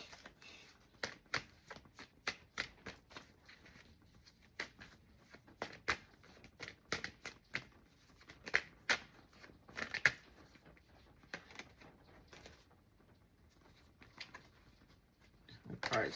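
Tarot cards shuffled and flipped, a string of soft quick riffling snaps and light slaps in irregular bursts, close and fairly quiet.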